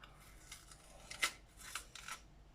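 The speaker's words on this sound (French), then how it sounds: "On coupe en lanière" A knife slicing a bell pepper into strips on a kitchen board, giving a few faint crisp crunches and cutting scrapes, one sharper snap near the middle, quiet and close.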